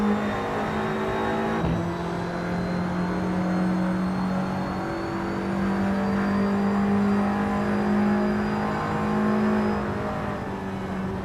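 An Audi TT Cup race car from the Assetto Corsa racing game cruises around Death Valley Raceway, its engine humming continuously at moderate volume with gentle rises and falls in revs.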